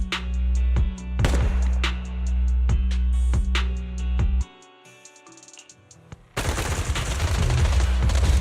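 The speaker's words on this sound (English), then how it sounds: "Gunfire? This pattern. Suppressive marching fire." Rapid bursts of gunfire crack out in sharp repeated volleys of suppressive marching fire in Zenless Zone Zero, then drop to a brief muffled lull before loud dense shooting resumes.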